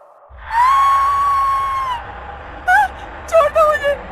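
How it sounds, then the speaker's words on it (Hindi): A woman's loud, drawn-out scream in a Hindi horror story, one long high wail followed by several shorter, sharp cries, close and piercing over a low background hum. "रेणुका बहुत जोरों से चिल्लाई।"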